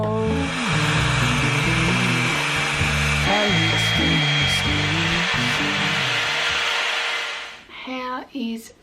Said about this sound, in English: Hair is all blow dried.